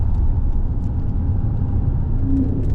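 A Mercedes-Benz S550 Coupe tuned by Renntech hums with a steady, loud cabin-heard engine drone, the pitch briefly stepping as a gear change comes through near the end.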